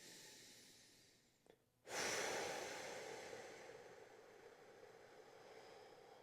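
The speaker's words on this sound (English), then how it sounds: "Long exhale out" A long, deep exhale during a low-back and shoulder stretching workout: after a faint short sniff, a soft, breathy rush of air starts abruptly and fades slowly over several seconds, close and quiet with no talking.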